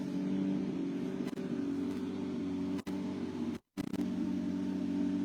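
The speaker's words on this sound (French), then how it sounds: "Vous pouvez admirer cette magnifique auto, cette Porsche 991 Cup de Patrice Bonnefond au sein de la structure de B Autosport" A Porsche 991 Cup race car idles steadily in a rally service park, its engine holding a loud, even drone with a couple of brief clicks and a short cut near the end.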